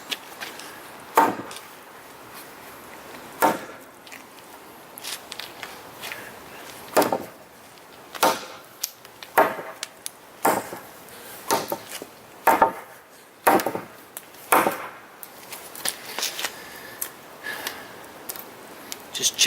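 An ESEE6 knife chipping at a wooden cut, sharp woody knocks landing at irregular intervals about a second or two apart, clear and close with quiet gaps between strikes.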